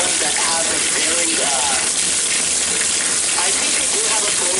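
An LG WT7400 top-load washing machine fills with water through both valves open, a steady broad hiss and gush of water pouring in that runs throughout, with people talking over it.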